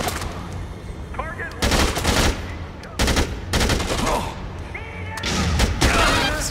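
Repeated bursts of gunfire ring out in the video game Dead Rising 2, loud rapid volleys separated by brief pauses, with a voice speaking between shots.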